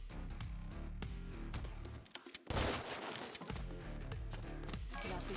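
Rapid bursts of gunfire crackle in The Takeover, a beat 'em up on Nintendo Switch, layered over a busy game soundtrack with a dense flurry of shots in the middle and a voice talking over it.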